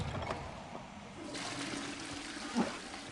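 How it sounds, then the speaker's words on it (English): A toilet flushes in the Hogwarts Legacy video game, a steady rushing, gurgling wash of water running for a few seconds, close and alone, with a brief louder gurgle near the end. "Just flush toilets."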